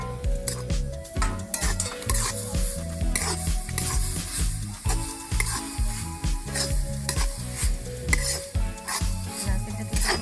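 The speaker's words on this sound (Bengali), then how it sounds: "নারকেলটাকে ভালোভাবে এটাকে ভেজে নিতে হবে দুধের সাথে" Grated coconut stirred and fried in boiling milk in a pan for Bengali pitha, a continuous close sizzle with repeated rhythmic scraping and clinking of a spoon against the pot, no talking.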